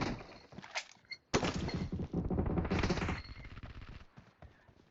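Rapid bursts of automatic gunfire from a PUBG Mobile match ring out loud and close, with a short pause before a sustained volley of rattling shots, heard without talk.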